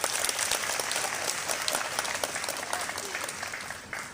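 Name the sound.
applause for the Treasury agents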